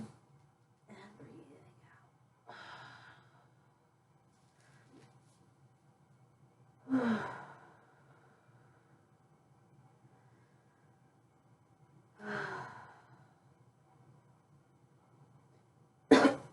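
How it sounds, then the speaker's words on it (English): Slow breaths in and out during gentle yoga in child's pose: a few soft, airy breath bursts spaced several seconds apart in a quiet room. "Breathing in and breathing out."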